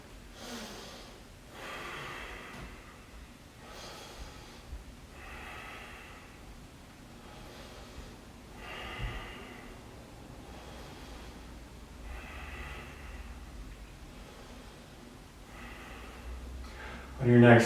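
Slow, deep breaths are drawn in and pushed out during yoga poses, a regular cycle of about eight airy, close breaths with a sharper sniff at the end.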